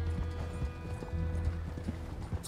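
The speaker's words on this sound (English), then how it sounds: "This horse is so slow." Horse hooves clip-clop at a steady, somewhat slow gait in Red Dead Redemption II, set in Saint Denis, heard close and continuous with faint wheel and ambient noise.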